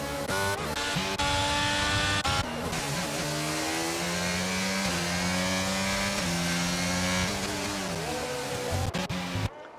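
Formula 1 race cars in a racing video game at the Hungary circuit scream past with high, sweeping engine notes that rise and fall as they accelerate and shift, several cars overlapping in a loud, continuous blare.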